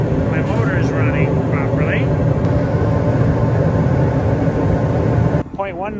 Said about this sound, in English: I'm burning real strong. But also I'm going to want to check and make sure my motor is running properly